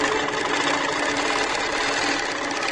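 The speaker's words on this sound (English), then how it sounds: "I'm just cautiously going to do a needle down, needle up" A sewing machine stitching during troubleshooting, a dense, fast, continuous mechanical rattle with no pauses, close and loud throughout.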